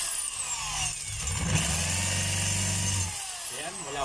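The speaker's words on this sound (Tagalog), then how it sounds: "Ayan, naka-drill po yan." A DeWalt D25032 rotary hammer runs in drill-only mode, a steady whirring motor drone for about three seconds before spinning down, close and loud with no hammering blows.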